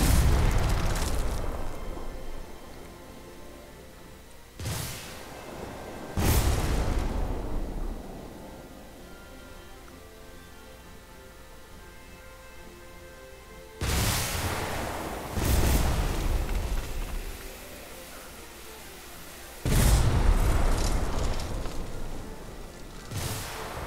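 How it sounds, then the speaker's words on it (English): Torpedoes detonate in the airship combat game Airship Kingdoms Adrift, giving several heavy booming blasts spaced seconds apart, each followed by a rumbling tail that fades into a low hum. "This will be our 5th set of torpedoes"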